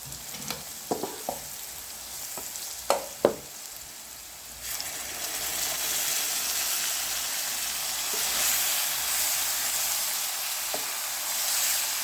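Tomato paste made from large tomatoes hits browned onions with ginger-garlic paste and breaks into a loud, steady sizzle close by, after a few clinks and scrapes of a spoon against the pot.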